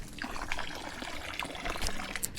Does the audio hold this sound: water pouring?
yes